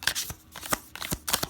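Tarot cards are shuffled by hand in several quick riffling bursts, close and crisp, with brief pauses between each pass.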